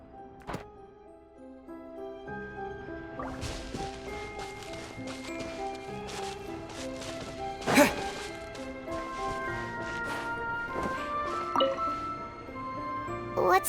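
Water sloshing and dripping in a basin inside the Genshin Impact game world, with layered droplet and splash sounds over a sustained musical background, a brief louder splash midway.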